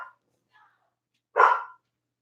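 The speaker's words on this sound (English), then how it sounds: "Oh, you're gonna bark? Is that what you're gonna do? You're gonna bark?" Dog barking: one sharp, close bark, preceded by a couple of faint soft yips, then quiet.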